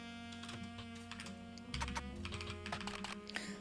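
Rapid clicking keystrokes on a computer keyboard in uneven bursts, close and fairly quiet over a low steady room hum.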